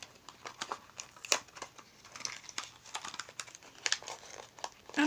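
Crinkling and tearing of plastic packaging as a tube of cream highlighter is opened by hand, with close, irregular rustles and a few sharper crackles and no talk.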